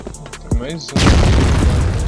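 Grenade explosion in the CrossFire video game, a loud booming blast that bursts in after a brief shouted voice and rumbles on with debris-like noise.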